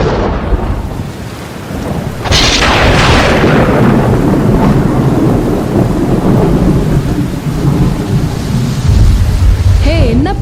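Staged heavy pouring rain with a loud rolling crash of thunder, a dense roar that swells after a brief quieter start and stays loud throughout, close and enveloping.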